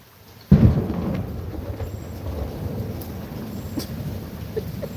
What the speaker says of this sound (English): was that lightning? Y'all saw that?